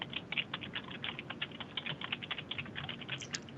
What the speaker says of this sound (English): Someone's madly typing.